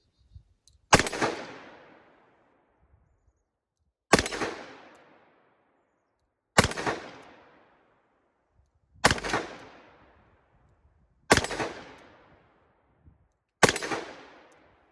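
A 2020 Colt Python revolver fires six sharp gunshots in double action, spaced a few seconds apart. Each loud crack is followed by a short outdoor echo that dies away before the next shot, and no one speaks.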